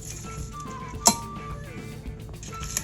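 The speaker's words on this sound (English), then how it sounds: "Going to toss them right into that wonderful barbecue sauce that we just made." Shrimp being tossed in homemade barbecue sauce in a bowl, giving soft wet shuffling and one sharp clink of utensil against the bowl near the middle, with quieter taps afterward.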